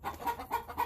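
A chicken in a winter coop clucks in a quick series of four short, close, moderately loud notes with brief gaps between them.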